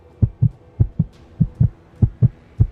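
A racing heartbeat sound effect thumps in quick, evenly paced lub-dub pairs, deep and close, about five double beats in under three seconds with nothing else around it.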